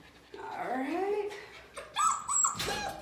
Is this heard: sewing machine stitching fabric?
no